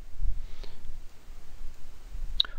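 A mouse clicking on an icon in 12d Model road design software, two faint, sharp clicks about two seconds apart, close against a quiet background.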